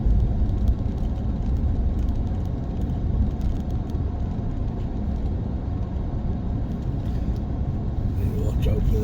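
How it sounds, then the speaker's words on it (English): A 4x4 on studded winter tyres drives over snow, giving a steady close engine rumble and road whir that lasts the whole stretch, with a voice talking over it at points. "I've got my 4x4 and I've got my studded winter tyres on"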